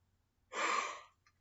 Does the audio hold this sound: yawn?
yes